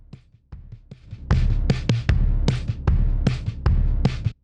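A processed drum track, with a gross, crispy, hyper-realized drum sound: a steady pattern of heavy, punchy low hits and sharp crisp cracks, loud and upfront, after a few sparse opening thumps.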